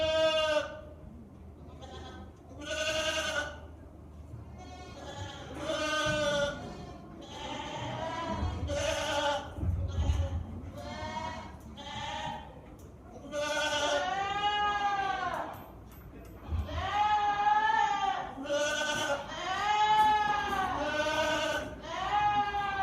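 Meat goats at a county fair goat show bleat repeatedly, many loud, wavering cries overlapping from several animals nearby, with faint hall noise beneath.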